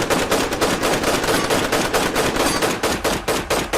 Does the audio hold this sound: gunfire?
yes